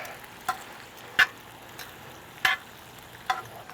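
Marinated chicken wings sizzle in a wood-fired pizza oven, a soft steady frying hiss broken by sharp pops and crackles about every second.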